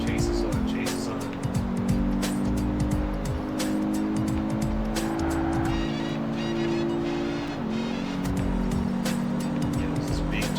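Several racing cars in a chase, engines droning and shifting pitch through gear changes, with tire squeal and rushing wind, loud and continuous, while voices talk over it.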